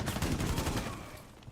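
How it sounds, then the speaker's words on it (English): A cluster bomb exploding in a tactical shooter game, a dense rumbling burst of overlapping blasts and crackles that stays loud for about a second, then tapers off with a faint pop near the end. "He can place, this is called a cluster bomb."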